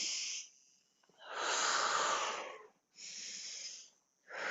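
Deep, audible breaths during a breath-focused fitness flow come in slow, airy waves close to the microphone, several long exhales and inhales with brief quiet gaps between them.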